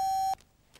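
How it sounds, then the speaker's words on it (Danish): A single steady telephone beep while a contractor is being called, a pure electronic tone lasting about a third of a second that stops sharply, followed by near silence. "men lige nu, der ringer jeg til et entreprenørfirma"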